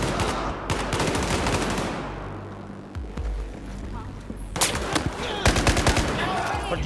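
Rapid machine-gun bursts and single gunshots from the video game Battlefield 4 rattle loudly throughout, with dense automatic fire, a brief lull, then fresh volleys near the end while voices talk underneath.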